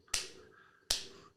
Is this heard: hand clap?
yes